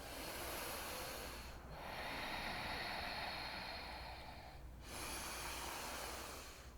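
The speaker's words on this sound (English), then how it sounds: "2 more breaths" Slow, deep yogic breaths during a power yoga class: long, broad airy rushes through the nose, a full inhale and exhale filling several seconds each, steady and close with no talking.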